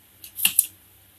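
Scissors snip through the tag on an assist hook for a slow jig, a short crisp double cut close up with a quiet pause on either side.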